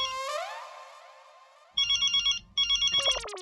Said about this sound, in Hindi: अरे ये तो जेठालाल का फोन है